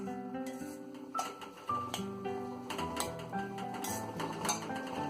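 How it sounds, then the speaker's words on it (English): A spoon stirs a soya chunk biryani mixture in a pan, giving scattered metallic clinks and scrapes against a steady background of music. "Give it a mix so that the soya chunks will absorb the flavor of all the ingredients that we put in."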